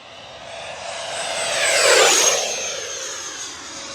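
An FMS F-16 Falcon 70mm EDF radio-controlled jet makes a high-speed pass down the runway, its ducted-fan whine swelling to a loud peak at mid-clip, then sliding down in pitch as it rushes past and recedes.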